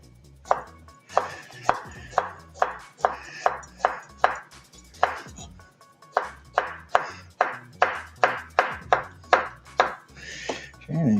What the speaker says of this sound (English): if you do half moons, you simply cut your squash in half